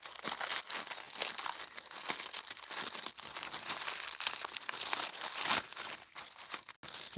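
Tissue paper wrapped around beads is unwrapped and crinkled close up, with continuous crackling and rustling throughout and no voices.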